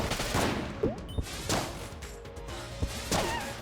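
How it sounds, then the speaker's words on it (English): Blunderbuss fire in Exit the Gungeon: several loud, punchy blasts land at irregular intervals over busy game sound effects and background music, with no talk. "Fire the blunderbuss!"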